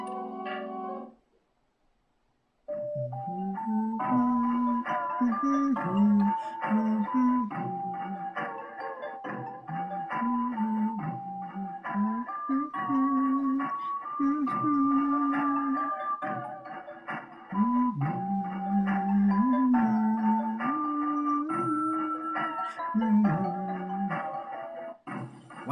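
Sound Stone melody from the video game Earthbound plays after a brief silence: a gentle chiming tune of bell-like tones over a steady harmonic backdrop, continuous and moderately loud for over twenty seconds, with no talking.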